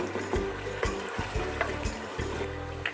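Masala frying in oil in a karahi pan for chicken karahi, sizzling close by, with rhythmic stirring scrapes and bubbling pulses repeating about every half second, and no talk.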